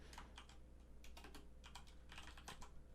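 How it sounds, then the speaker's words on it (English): Quick, light keystrokes on a computer keyboard, tapped in short irregular bursts up close in a quiet room, with no one talking. "Typing it in my Google machine"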